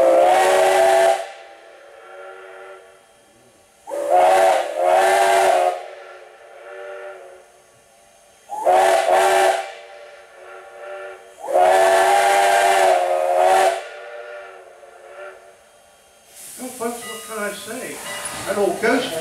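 Strasburg Railroad steam locomotive No. 89 near Paradise, Pennsylvania, sounds its whistle in several long, loud, steady blasts with pauses between, each answered by a fainter echo, and a voice speaks near the end.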